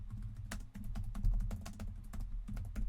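Rapid, uneven clicking of typing on a computer keyboard during a podcast, close and steady with no talk.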